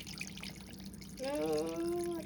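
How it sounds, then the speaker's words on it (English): Water poured into a pot of beef fat being rendered into tallow, starting as a soft trickle and turning to a steady, gurgling pour with a rising pitch as the vessel fills, close by. "I'm going to add in your water"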